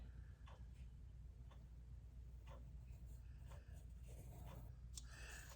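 A pen traces around a roll of washi tape on paper in a mixed media project, giving soft, close scratchy strokes in short bursts over a steady low background hum.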